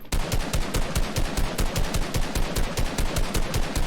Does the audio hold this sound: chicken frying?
no